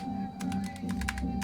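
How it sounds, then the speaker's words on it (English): Typing on a computer keyboard into a game chat box, a short run of quick, irregular key taps over a steady background hum. "So I'm literally typing blind."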